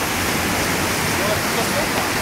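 A stream rushes in a steady, broad hiss close by, filling the whole clip with a continuous flow. A voice is faintly present under it.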